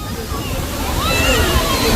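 Agaya Gangai waterfall with a modest flow pouring onto rocks, a steady, loud, close rush of falling water filling the whole moment without pause.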